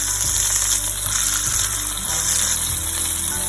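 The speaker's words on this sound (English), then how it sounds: "Now we can turn it and let's roast it on the other side." Chicken tikka roasts in a hot pan after being turned, already slightly burnt, giving a loud, close, continuous sizzle with crackling pops throughout.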